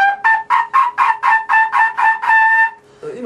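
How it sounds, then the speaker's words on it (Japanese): A trumpet plays the note B (si) as a run of about nine short, evenly tongued, bright notes, loud and close, followed by a brief different sound at the end. "今のはシの音ですよね。"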